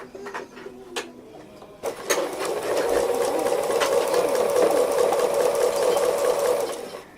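A sewing machine stitches free motion embroidery with lighter thread on an owl wall hanging, running steadily after a few starting clicks, a close, loud, continuous mechanical whirr with rapid needle ticking.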